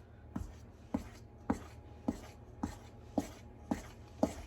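Pen strokes on paper while a recipe for Southern chicken and dumplings is written out by hand, eight short scratchy strokes spaced evenly about every half second, close and quiet over a faint steady background hum.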